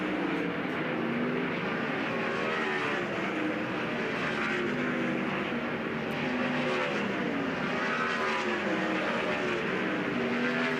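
Sprint cars at Port Royal Speedway during practice for the Kubota High Limit Racing Tuscarora 50 roar around the dirt oval in a steady, loud drone, engines rising and falling as they pass.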